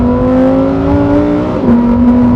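Lamborghini Huracan STO engine and exhaust revving loud and close, a steady rough drone with a brief dip and lift in revs partway through, rasping and crackly.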